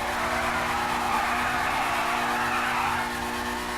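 A Lamborghini supercar in GTA V roars at high revs, a steady loud engine drone with tire skid and squeal layered on top and no break for nearly four seconds.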